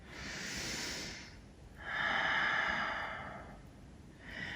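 Steady breathing during a yoga practice: a soft breath out, a pause, then a longer, fuller breath, with the start of another at the end. Close and fairly quiet, with no talking.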